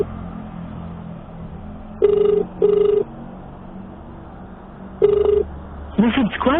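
A phone rings out while a ride-hailing driver calls a customer. A steady ringback tone plays over a phone speaker in repeated paired beeps against rumbling background noise, and a voice starts at the end.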